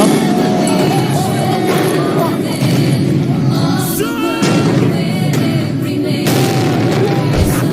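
New Year's fireworks exploding outdoors in the Netherlands: a loud, dense barrage of booms and crackling bursts, with one sharp deep thud near the end.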